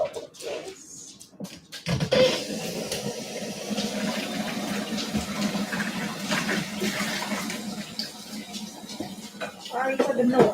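Dishes are washed under a running tap, a steady loud stream of water splashing with clinks and scrapes mixed in, while a person talks over it.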